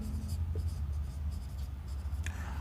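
Chalk or marker scratching out a point on a classroom board in short, scraping strokes, near and steady over a low background hum, with no speech.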